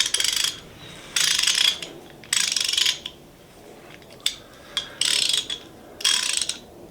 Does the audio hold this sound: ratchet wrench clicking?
yes